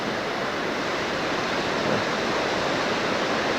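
A small waterfall fed by water seeping from canyon rocks and a melting snowbank rushes in a steady, loud, close hiss with no pauses or voices.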